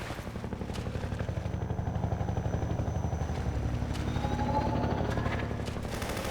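Helicopter gunship in the video game Half-Life 2, its steady rotor chop pulsing loud and continuous under clattering gunfire and game noise.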